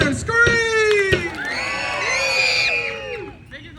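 A resort party crowd of children and adults screams and cheers, long rising whoops and yells layered together, loud and close, with a sharp clap or bang near the start.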